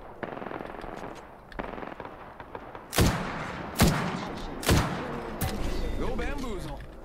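Bursts of automatic gunfire and several sharp, loud shots in the video game Apex Legends, rapid rattling volleys with heavy booming reports, with game voice lines heard around the shooting.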